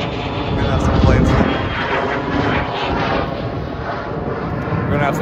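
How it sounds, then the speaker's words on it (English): Airplanes passing overhead near an airport beside a golf course, a steady broadband engine roar that swells briefly and then holds at a fairly loud level, with faint talk underneath. "We're gonna have some planes flying overhead."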